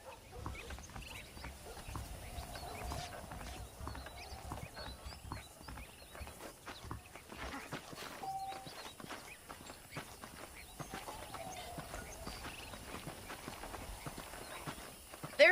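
Horse hooves clip-clop at a steady walking rhythm in Red Dead Redemption, moderately close and fairly quiet, with faint ambient outdoor noise around them.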